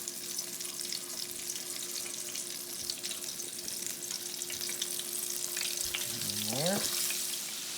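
Flour-dredged chicken pieces, including a leg, frying in oil with a steady broadband sizzle throughout, growing slightly louder, and a brief mid-pitched squeak near the end, with one short spoken word.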